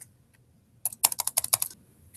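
Quick bursts of typing on a computer keyboard, about a dozen crisp clicks clustered in the middle of the moment after a quiet start, close and fairly soft, with no voices.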